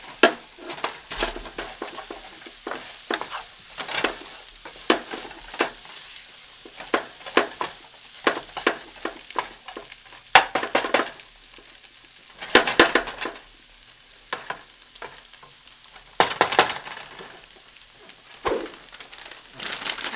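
Potatoes sizzling and frying in a pan for breakfast burritos, with a steady crackle punctuated by repeated louder bursts of scraping and stirring, close and fairly quiet, no talking.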